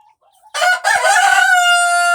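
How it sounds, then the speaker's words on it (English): A rooster or hen in a garden chicken coop gives a loud, close, drawn-out crowing call that breaks off briefly and then carries on as a long harmonic cry. "We got a chicken in here eating eggs."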